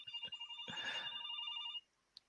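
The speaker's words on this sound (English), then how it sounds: "sorry, my phone is going off" A mobile phone ringtone trills in a steady repeating electronic pattern for under two seconds, fairly faint and indoors, then cuts off abruptly, followed by a single small click.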